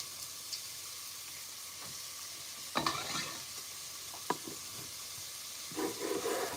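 Onions frying in a pan, a steady low sizzle with a few stirring scrapes and clatters, moderately close and without talk.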